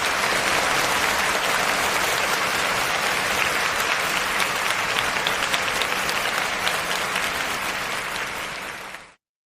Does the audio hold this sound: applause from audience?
yes